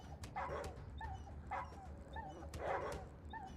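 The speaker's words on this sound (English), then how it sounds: "Kind of weird that the dog has only one sound for yelping." A dog in the post-apocalyptic role-playing game ATOM RPG gives the same short, high yelp about three times at a regular pace, faint over a steady low ambient drone with no talk.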